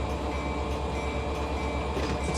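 Freight train simulator game: a heavy tonnage train rolling northbound into Cordele and slowing near the north end, giving a steady, dense rumble with a faint high whine throughout and no talk.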